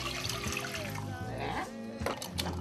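A pint of water poured into a pot for making rice and peas, a steady splashing, trickling pour running throughout with a brief heavier splash near the end.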